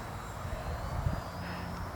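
An E-flite EC-1500 Twin RC cargo plane flies under power, a steady buzzing electric motor drone with a faint high whine riding over wind rumble, holding fairly constant throughout.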